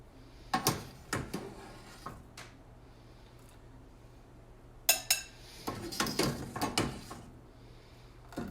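A ladle or spoon scooping an egg out of a pot of homemade sweet red pepper ramen broth, with scattered metallic clinks and knocks against the pot, close and moderately loud, separated by quiet stretches.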